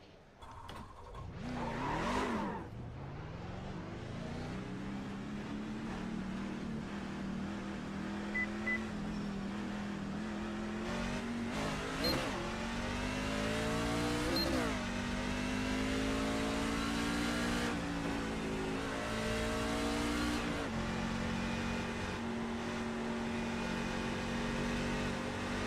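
A NASCAR race car's engine drones steadily on an easy out lap at Phoenix Raceway, with a loud revving surge early, then a sustained rising and falling motor tone and occasional gear-shift dips.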